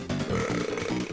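A cartoonish burp from the Boogerman video game, a single drawn-out belch lasting about a second, loud and continuous over game music.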